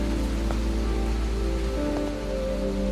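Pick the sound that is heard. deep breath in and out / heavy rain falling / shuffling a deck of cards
heavy rain falling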